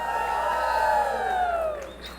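An audience at a graduation ceremony shouts and cheers a person's name: one sustained burst of voices and whoops, loud and close-sounding, fading slightly toward the end.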